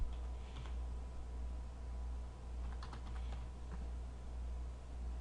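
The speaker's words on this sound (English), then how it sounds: "I'm going to just type in Farmingdale right here" Steady typing on a computer keyboard, with clusters of quick clicking keystrokes over a low constant hum, no talking.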